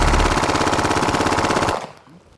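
Glock 18 machine pistol emptying a 33-round magazine on full auto: a loud, rapid, continuous burst of gunfire lasting under two seconds, then a brief fading echo and quiet.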